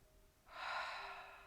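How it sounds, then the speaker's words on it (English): A deep, breathy inhale or exhale during a floor exercise routine, a soft airy rush starting after a short quiet moment and holding steady for about a second, close and gentle. "Take a breath."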